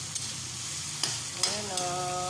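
Tomatoes frying in a pan, a steady sizzle broken by a few sharp spoon scrapes and stirs, with a brief voice near the end.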